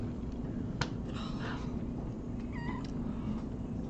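A rescue cat lets out a short meow amid a steady low background hum, with a faint clicking moment just before it; the meow is brief and fairly quiet, with no one speaking.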